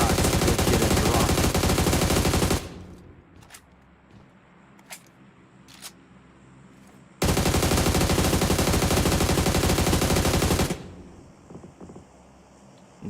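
Sustained automatic gunfire in PUBG Mobile during a competitive North America scrim match, two long loud bursts of rapid fire separated by quieter stretches with a few scattered single shots.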